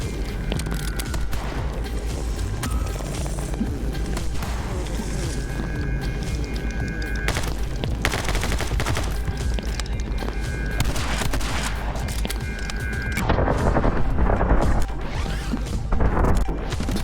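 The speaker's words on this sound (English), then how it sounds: "that guy right there consistently hits me with the assault rifle" Rapid bursts of assault rifle fire and impacts crackle nearly nonstop through a frantic shootout in the action game My Friend Pedro, with crashes and booms layered over a steady music bed.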